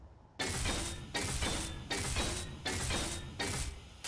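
Welding tool in the game Space Engineers, a repeated mechanical buzzing crackle that pulses in four to five even bursts, close and steady, with no talk.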